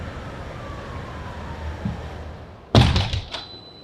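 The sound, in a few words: New York city street noise heard through an opened door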